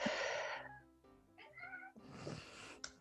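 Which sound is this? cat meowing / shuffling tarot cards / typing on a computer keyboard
cat meowing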